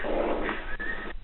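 Two-week-old newborn puppies give a brief, close, high whimper that rises and wavers and then cuts off abruptly, with no talking.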